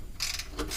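Ratchet wrench loosening the main radiator bolts on an Isuzu chipper truck, a brief burst of quick mechanical clicks, close and fairly loud, lasting under a second.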